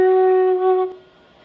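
A single sustained F sharp on a flute, a steady, clear tone with strong even harmonics, held for under a second before it cuts off and leaves a quiet tail, played alone.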